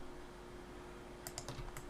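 Soft keyboard and mouse clicks while shift-selecting edges in Blender 2.8, a quick cluster of five or six light taps over a steady faint hum, with no voice.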